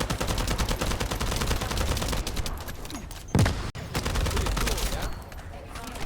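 Gunfire in the video game The First Descendant, rapid automatic bursts rattling continuously, with a sharp break and brief pause midway before the shooting resumes.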